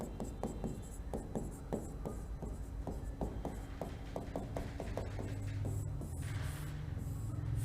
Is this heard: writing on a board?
yes